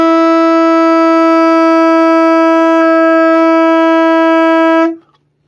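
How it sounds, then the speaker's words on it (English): A saxophone holds a single open C sharp note, a steady, bright, reedy tone with rich overtones, sustained loudly for about five seconds before stopping cleanly. "It's the sound of the C sharp on the saxophone that we're going to try to make better."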